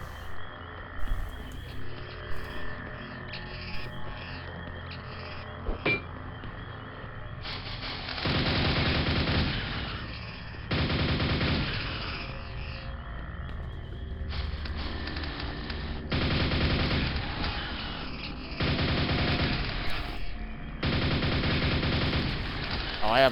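Rapid nailgun fire from the Quake shooter echoes in repeated sustained bursts of a few seconds each, loud and dense, broken by short gaps and overlaid with game sound effects and creature noises.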